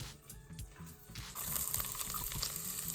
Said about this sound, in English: So here, I've got 2 onions, just finely diced, and they're going to go into the pot.